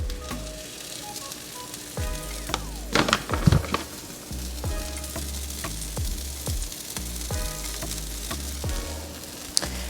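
White corn tortillas and cheese fry in oil in a pan, a steady soft sizzle punctuated by scraping and tapping of a utensil, with no talking.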